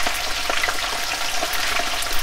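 Pieces of appetizer fry in hot oil in a pan, a steady close crackling sizzle with scattered sharper pops and no talk.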